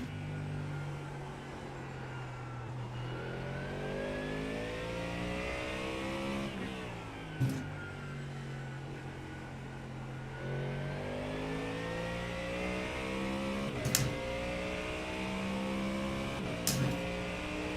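A race car engine in the iRacing simulator, played through a motion cockpit, revs and drops steadily through gear shifts. The note climbs repeatedly with a few brief knocks and clunks, a continuous mid-level drone with no talking.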